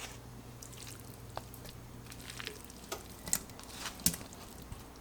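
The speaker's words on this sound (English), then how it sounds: "After your oil is heated through, we are going to add our meat." Thinly sliced meat fries in olive oil in a pan, giving a quiet, steady sizzle with scattered small pops and clicks.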